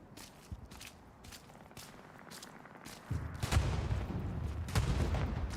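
Artillery fire in the World War II online shooter Hell Let Loose: repeated sharp distant blasts and gunfire, giving way after about three seconds to heavier, closer rumbling booms.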